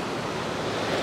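Ocean surf washes steadily onto a beach near a lifeguard tower at sunrise, a continuous broad rushing roar with light wind noise and no voices.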